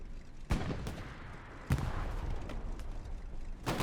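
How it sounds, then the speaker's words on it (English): Rockets and gunfire in a World War II battle at Tobruk, played in a multiplayer shooter: a steady roar of combat with sharp, loud blasts at intervals, no voices. "Rockets flying in everywhere."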